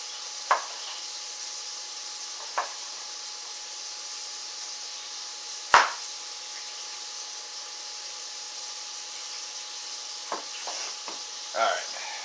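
A kitchen knife cuts through half an onion in a few separate, sharp strikes on a cutting board, spaced seconds apart over a steady background hiss.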